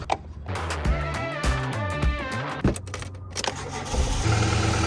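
A car engine cranks with a rhythmic starter whir for a few seconds, then catches and settles into a steady idle, heard up close with no talking.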